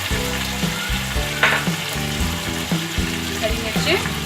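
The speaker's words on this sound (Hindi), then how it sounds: "ये सब चीज़ें शामिल करके मसाले को भून लेंगे अच्छी तरह से।" A masala of yogurt with garlic and ginger paste is fried and stirred in a pan for murgh yakhni pulao, giving a loud, continuous sizzle with close scraping stirs.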